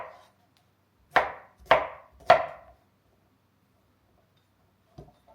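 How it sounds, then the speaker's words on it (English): A knife trimming sore spots off vegetables on a cutting board gives three crisp chopping knocks in quick succession, close and clear, with one faint tap a few seconds later and quiet between. "I'm going to cut off any sore spots that I might see"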